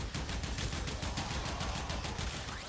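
The Tenet Tetra rifle fires in Warframe, a rapid continuous automatic burst of sharp, loud shots in an even rhythm that never lets up.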